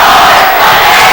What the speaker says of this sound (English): And the North Summit student body starting to get loud.